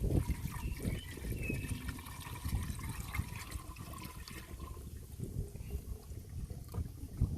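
Coolant pours into a car's engine cooling-system expansion reservoir, a continuous gurgling, splashing flow of liquid that runs steadily throughout.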